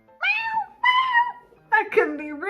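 A cat meows several times, two drawn-out mews followed by a quicker pair of rising calls, close and clear against a quiet background.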